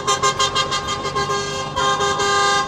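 Car horns toot in a rapid string of short honks, then one longer blast, over the steady rush of passing traffic on a city street close by.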